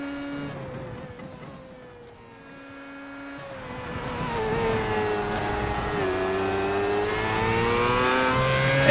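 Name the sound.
Formula 1 car engine lapping Motegi in iRacing video game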